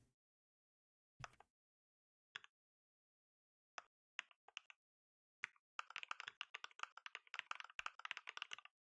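Keys tapped on a computer keyboard, a few isolated clicks at first, then a quick burst of rapid typing, quiet and close with no voices.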